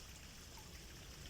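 Faint, steady trickle of water around a worry stone set in the water, soft and continuous throughout.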